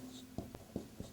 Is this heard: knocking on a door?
no